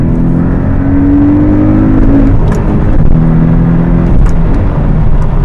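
A Porsche Boxster pulls away as traffic opens up, its engine droning loud and close from inside the cabin with a steady, slowly rising tone and a shift partway through.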